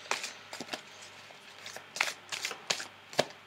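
Tarot cards shuffled for a reading, a series of crisp riffling and flicking bursts in irregular rhythm, close and alone without talk.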